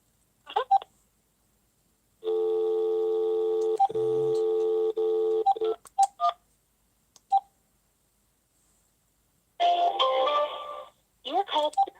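Telephone keypad tones dialing star 21 star on an AT&T phone line, a long steady multi-tone beep followed by several short separate key beeps and a final burst of rapid tones, clear and close with quiet gaps between.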